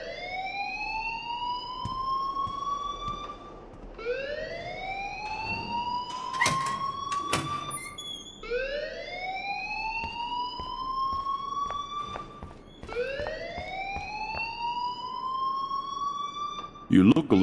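A fire alarm in the video game Life is Strange wails in repeated rising sweeps, about four cycles, each climbing and then cutting off, loud and steady with voices talking over it.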